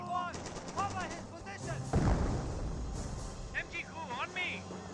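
Rifle volley gunfire against a bunker in the World War II strategy game Company of Heroes, a burst of overlapping shots around the middle of the clip with more battle noise throughout, beneath steady talk.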